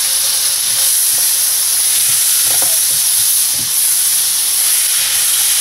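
A hot pan sizzles steadily as garlic melts in it, a loud, even hiss with occasional faint clinks of stirring, close up and without talk.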